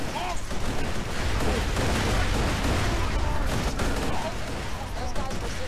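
Weapon fire in the video game Borderlands 2, heard as a loud, dense fusillade of shots and blasts that runs throughout, with a voice talking over it.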